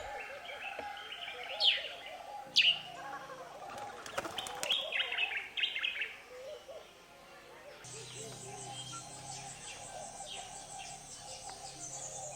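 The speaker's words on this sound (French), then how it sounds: "Une quiétude que seuls les chants des oiseaux perturbent." Birds sing and chirp around a quiet village on Cachouane island, with bright repeated calls near and far and a steady insect-like trill taking over later, with no voices.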